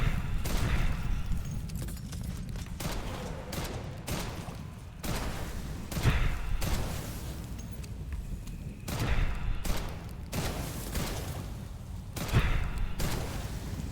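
Gunfire in the video game Witchfire, a series of heavy booming shots and bursts in irregular volleys, loud and close, with brief gaps between blasts.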